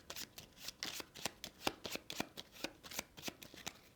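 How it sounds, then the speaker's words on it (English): Playing cards from a solo pirate board game being shuffled up close, a steady train of soft, evenly spaced riffle snaps lasting several seconds, quiet and alone. "We shuffle those cards back up again"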